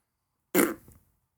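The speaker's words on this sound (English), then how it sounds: "Fart noise?" A single short fart noise, burst-like and loud, with a quick rumbling tail that fades within about half a second, alone with no talk.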